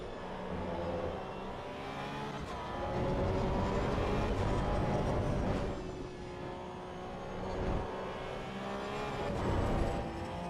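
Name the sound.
tires squealing on a Porsche Cup car in AC Evo video game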